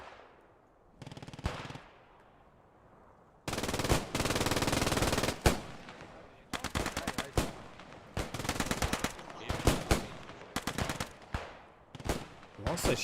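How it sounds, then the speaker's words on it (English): Gunfire in the WWII shooter Post Scriptum during a realism event set in Stone, 1944: long loud bursts of machine-gun fire and scattered single shots, some close and some farther off, with pauses between volleys. "What's the shots going on here?"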